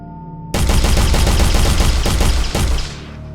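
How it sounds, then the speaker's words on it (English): Rapid automatic gunfire from a gun in a video game, a loud dense burst of shots for over two seconds with a brief break near the end, then a ringing tail. "Blow up the red wall with your gun"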